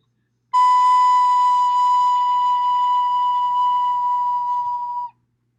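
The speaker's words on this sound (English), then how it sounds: "Let's look at the B note on the recorder." A single steady, pure whistle-like note B on a recorder, held for about four and a half seconds, clear and close, starting and stopping cleanly with no talking.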